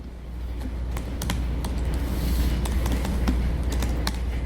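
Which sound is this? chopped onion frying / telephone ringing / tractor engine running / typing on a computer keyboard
typing on a computer keyboard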